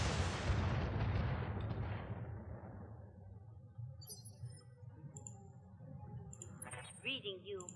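Artillery fire in a BattleTech video game: one loud booming blast that slowly decays into a rumbling tail, followed by faint clinks and a voice speaking quietly.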